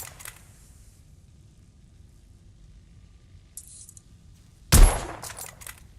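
A single sharp, loud gunshot from a sharp-recoil gun in The Order: 1886 video game cracks out after near silence, followed by a brief fading tail and faint clinks.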